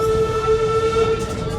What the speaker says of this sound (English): All right, we are on the train.